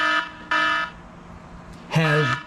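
A phone's tire pressure monitor for a Harley Triglide sounds its low-pressure warning for a deflated rear left tire: two short, loud, buzzy beeps, a pause, then a longer wavering tone.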